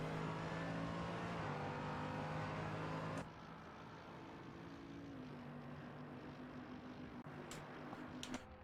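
A McLaren race car engine in a sim racing game at Daytona, a steady droning tone that drops in pitch partway through and carries on at a lower level.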